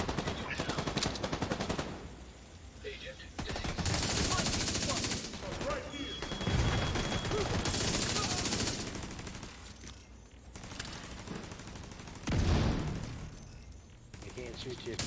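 Gunfire in the video game Division 2 comes in repeated bursts of automatic fire and heavy volleys that alternate with quieter stretches, with players talking over the shooting.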